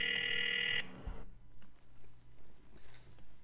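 A phone line rings with a single steady electronic ring tone while a call is being placed, loud and alone for under a second before cutting off into faint background noise.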